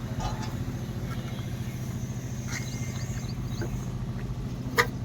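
A single chain cultivator engine idles close by with a steady low chugging rumble, fairly quiet and even, joined by a few faint clicks and a brief sharp tap near the end.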